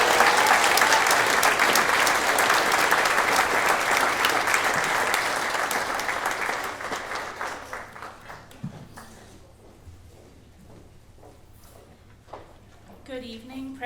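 A graduate commencement audience applauds loudly to welcome a student speaker, dense sustained clapping that gradually thins and fades to scattered claps near the end.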